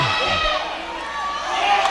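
A gym crowd at a high school wrestling match chants a wrestler's name in a brief, loud burst of voices with shouting and cheering mixed in.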